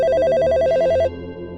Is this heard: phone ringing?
yes